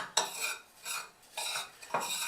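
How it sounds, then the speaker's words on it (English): Dry, dusty sodium acetate powder being crushed and stirred in a container, several scraping, gritty strokes in bursts with short pauses between, close and fairly loud. "All the lumps are very easy to crush."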